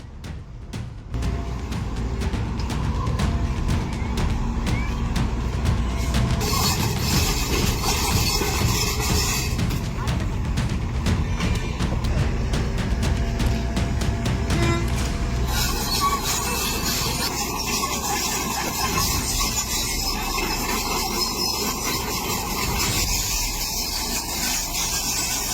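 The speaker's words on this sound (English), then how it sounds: "This operator is controlling a Komatsu excavator as it carefully moves down onto the road." A Komatsu excavator grinds steadily down onto a road, its loud continuous rumble and scraping track noise filling the scene without pause, with a rougher shift in texture partway through.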